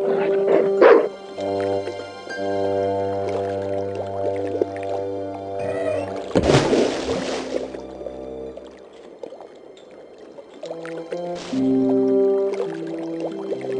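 Dog from the video game Broken Sword 2 barking and whimpering while being dunked in water, short yips and splashy squishing sounds over a steady harmonic music bed, with a burst of splashing in the middle.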